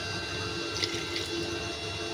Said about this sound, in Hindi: अभी मैंने पानी जो है वो फुल गर्म किया हुआ है, तो पानी मैं इसमें डाल दूँगी